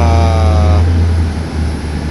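An Emirates Boeing 777-300ER during pushback gives a loud, steady low engine drone with a whining tone that fades out partway through, heard close with no talking.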